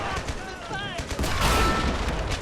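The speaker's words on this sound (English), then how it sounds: "It was the MG gun." Machine gun fire in the World War II strategy game Men of War Assault Squad 2, bursts of rapid shots mixed with other battlefield gunfire and faint explosions, with a voice talking over parts of it.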